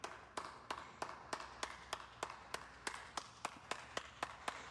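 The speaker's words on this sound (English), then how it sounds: "The rest of the video is just clapping" Steady, evenly spaced hand claps, about three per second, fairly faint and alone against a quiet background hiss.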